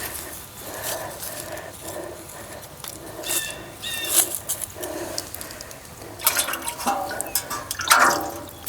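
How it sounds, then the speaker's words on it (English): Water splashes and drips as hands are rinsed outdoors in a garden after planting herbs, with irregular close splashing and trickling bursts that swell toward the end, no talk. "Rinse off my hands a little"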